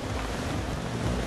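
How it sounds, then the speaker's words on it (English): Strong wind and surf at a beach kitesurfing contest, a loud, continuous roar of gusting air and rolling waves that buffets the microphone, with no talking. "giving you a little bit of a feel for what it's like to be out and listening to the flapping wind"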